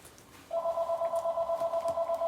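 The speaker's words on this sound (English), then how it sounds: "We're ignoring the phone." An electronic telephone ringtone starts half a second in and warbles steadily and loudly to the end, a fast pulsing trill over a quiet room.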